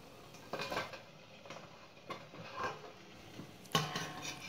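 A steel plate of dhokla batter is set into a steamer, giving a few scattered metallic clinks and knocks of pots and lids, close and fairly quiet.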